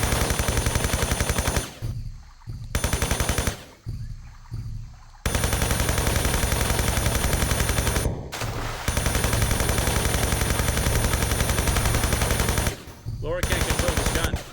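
Sustained machine-gun fire in Tomb Raider III, loud and dense, cutting out abruptly several times in short silent gaps as the weapon jams and restarts, with no talk over it.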